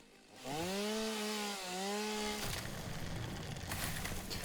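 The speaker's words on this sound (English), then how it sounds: "I got 4 trees in one chainsaw movement there." A chainsaw revs in a video game as it slices through several trees in one sweep, its steady whining tone bending in pitch, then giving way to a louder broadband crunch of timber toward the end.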